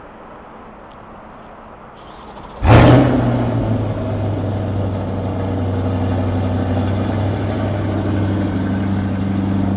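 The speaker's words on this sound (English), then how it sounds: "And that's what the C8 E-Ray sounds like from idle." Chevrolet Corvette C8 E-Ray cold-started by remote, with a sudden loud engine catch and flare that settles into a steady, rumbling idle, heard up close after a quiet lead-in; one brief spoken word.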